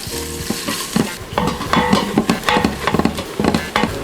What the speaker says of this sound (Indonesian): Kita akan tumis hingga bawangnya golden brown